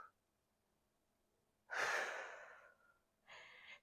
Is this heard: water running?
no